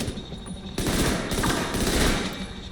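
Rapid automatic gunfire in The Division 2 as a player shoots an enemy, loud sustained bursts of close shots that intensify after a brief opening.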